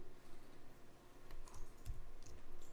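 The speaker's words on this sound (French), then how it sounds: "et la copier, CTRL-C." Computer keyboard keys pressed for a copy shortcut while laying out a page in Adobe InDesign, a few quiet close clicks over a faint steady hum.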